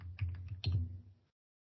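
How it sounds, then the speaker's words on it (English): Fast typing on a computer keyboard, a quick close cluster of clicky keystrokes lasting about a second before it stops. "Typing kind of fast"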